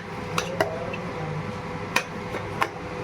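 Roughly 4.5 kg of mutton pieces are stirred in a metal pot, producing a few sharp scattered clanks and scrapes of utensil on metal over a quiet background, fairly close, without talk.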